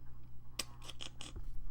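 Scissors cutting a piece of card paper for a greeting card, a few quick, crisp snips in a row, close and quiet over a low background hum.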